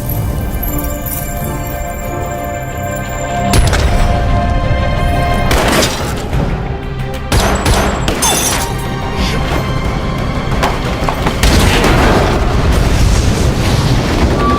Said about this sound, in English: he detonates the bomb he had prepared to kill Colonel Moon and his henchmen